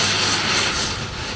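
Steady broadband roar of an airplane engine during a royal visit's onward flight to Taupo, New Zealand, holding at a constant loud level throughout with no voices over it.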